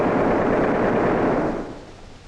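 A machine gun fires a sustained burst at a Nazi fighter plane, a loud dense rattling roar lasting about a second and a half, then tailing off.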